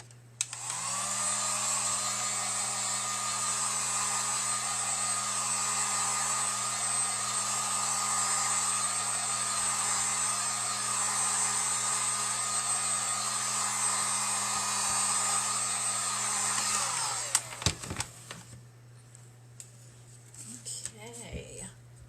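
A hair dryer blows steadily, loud and close, drying English mustard folk art paint on a fall truck cutout wreath, running about seventeen seconds before clicking off, followed by faint handling noises.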